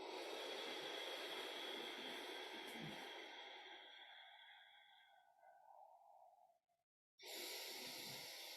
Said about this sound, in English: Continue to breathe in through the nose if you can, filling the bottom of the lungs to the top.